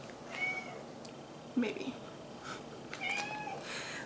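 A pet cat lets out a couple of soft, short meows in a quiet room, faint and somewhat distant, while a person speaks briefly nearby.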